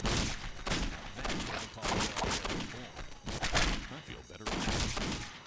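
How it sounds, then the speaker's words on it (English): Loud, dense gunfire from the video game Postal 2, rapid overlapping shots and bursts filling the whole stretch, with a voice briefly speaking over it. "we return to the extremely unnecessarily loud gunshot sounds"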